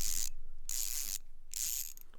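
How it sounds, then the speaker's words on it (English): A Koken 2726ZB 3/8-inch ratchet gives three bursts of fine, soft, rapid clicking from its smooth pawl, each lasting about half a second, held close with short silent gaps between. "What I love, and I'll put it up against the mic, is the buttery smoothness of this ratchet."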